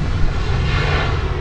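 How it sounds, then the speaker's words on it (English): An airplane passing overhead, a steady loud engine roar filling the whole short stretch with no other sound. "wait for that plane"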